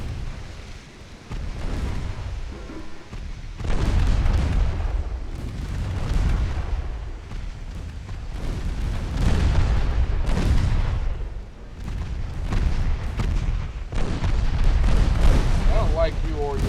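Naval guns booming in the warship game Ultimate Admiral Dreadnoughts, a dense, continuous rumble of heavy salvos and explosions layered with sustained battle noise throughout.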